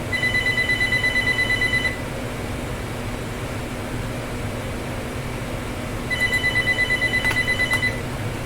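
A telephone rings in two bursts of repeated electronic trilling, separated by a pause filled with steady room hum, fairly loud and close with no talk.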